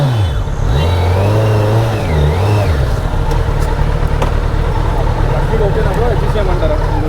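A 949cc superbike engine revs hard, its pitch rising and falling and then settling into a loud steady roar close by, with a voice briefly heard over it.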